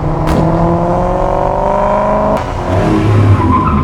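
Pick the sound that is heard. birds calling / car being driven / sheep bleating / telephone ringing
car being driven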